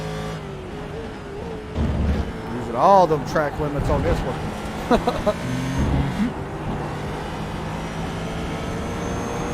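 Race car engine heard on board in a sim racing game at historic Barcelona, a steady mid-level drone with brief revving sweeps around the middle, running under continuous commentary voices.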